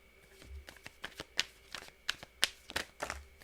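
Tarot cards shuffled and handled up close, a run of crisp, quiet riffles and flicks in an irregular rhythm with no talk.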